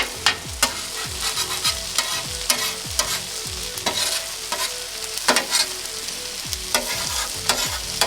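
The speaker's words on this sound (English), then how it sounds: "Can't let it get too hot. We're gonna scramble it." Eggs are scrambled on a Weber Slate griddle: a spatula scrapes and taps rhythmically on the hot steel over a steady loud sizzle, with no talking.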